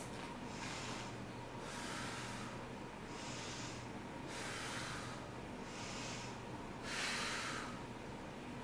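Slow, deep yoga breaths held in a runner's pose, about six audible hissing inhales and exhales alternating at an even, unhurried rhythm, close to the microphone and alone.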